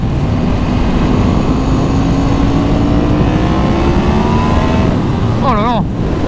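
A Yamaha MT-10 motorcycle accelerating hard, its engine note climbing steadily and loud throughout, with rising harmonic sweeps and a sharp warble near the end as it revs through the gears.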